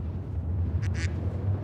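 A duck gives two short, nasal quacks in quick succession over a steady low hum, fairly loud and close, with no talking alongside.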